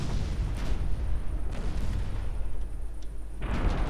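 11-inch high explosive naval shells slam into a transport ship in a warship strategy game, giving a rumbling run of heavy booms and blasts with a fresh burst near the end.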